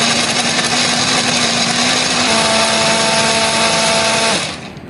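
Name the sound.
blender grinding spice paste with water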